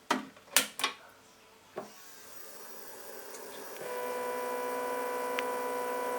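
An Arduino Pro Micro drives a stepper motor on a 12 volt supply for an automatic blind. A few sharp knocks come first, then a steady motor hum with a whine that rises and holds at full speed, faint and close with no talking.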